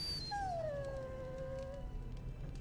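A dog in a video game lets out a long, thin whimpering whine that slides downward and trails off, alone over a low background hum.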